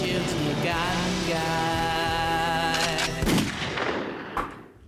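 Gunfire in a James Bond video game: a dense, loud burst of electronic-sounding shots with ringing tonal layers that fade out into a final distant crack.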